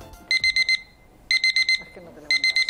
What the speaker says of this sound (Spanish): El sonido de despertador que tenía mi Aitai, que lo odiaba